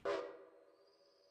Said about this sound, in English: One whistle blast signifies that you've stopped.